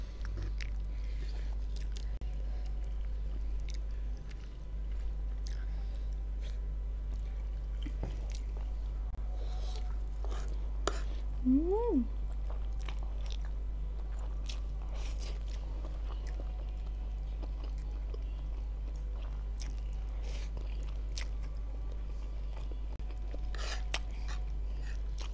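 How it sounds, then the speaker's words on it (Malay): Samyang rose noodles with fish balls and tobiko being chewed in sparse, soft bites and wet squishes close to the mouth, quiet against a steady low hum, with no talking. "Bila letak ni semua dalam mulut kan, dia rasa bila gigit tu macam pecah dia punya yang kat dalam tu."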